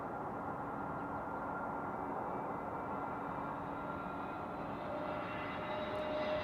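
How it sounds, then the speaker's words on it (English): A Boeing 747 airliner taxis at Amsterdam Schiphol Airport, a steady distant engine drone with a low rumble and faint rising whine that holds evenly throughout, with no voices. "Is that right 747 already taxiing this way? Because I think I'm hearing it."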